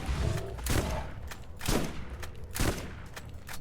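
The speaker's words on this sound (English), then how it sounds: "I'm excited to try out this shotgun." A shotgun fires in Borderlands, three loud, evenly spaced blasts about a second apart over busy game noise.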